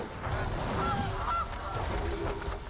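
In the MTG Arena video game, a Gilded Goose card lands with a muffled goose honk over a dense, steady rumble of game effects and background music.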